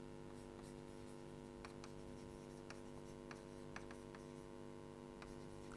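A marker or chalk taps and scratches across a board as a formula is written during a logic lecture. Short strokes come in irregular bursts, close and fairly quiet, over a steady background hum, with no talking.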